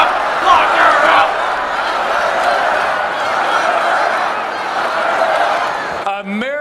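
A large crowd chants "lock her up" in a loud, continuous mass of voices for about six seconds, then cuts off abruptly as a single nearby voice briefly takes over.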